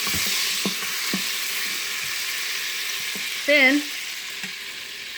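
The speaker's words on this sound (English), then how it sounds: "heaping tablespoon into the Instant Pot and let it go for about" A heaping tablespoon of garlic sizzles in an Instant Pot, steady bright frying hiss throughout with occasional utensil taps and scrapes, while a voice briefly speaks.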